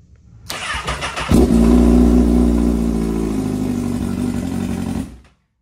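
A Honda CBR motorcycle engine cranks over and catches, then settles into a loud, steady, close-up run with a little throttle before it cuts off abruptly.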